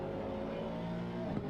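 A race car engine drones steadily at the Red Bull Ring in a racing video game, a brief, moderately loud sustained tone with a slight surge near the end, alone without talk.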